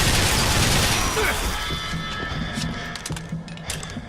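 In BioShock Infinite: Burial at Sea, a loud burst of gunfire strikes bulletproof glass at the start, then gives way to scattered sharp impacts and clicks over a fading rumble.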